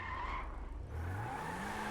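Front-wheel-drive racing car in a video game, skidding and speeding around a car park: a loud tire screech with engine whine, then a rising rev as it accelerates away, close and continuous.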